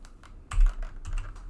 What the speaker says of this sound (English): we can start typing in our